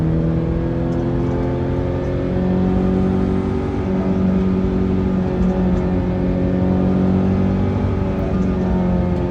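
A car engine holds a steady high rev against the rev limiter, a loud, sustained droning whine with layered harmonics that wavers slightly but never drops, running alone for several seconds.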